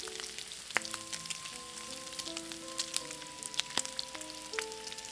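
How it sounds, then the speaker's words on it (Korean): Seaweed gim-bugak chips deep-frying one at a time in plenty of oil in a deep wok, a steady crackling sizzle with scattered pops and light clinks throughout. "하나씩 튀겨냅니다."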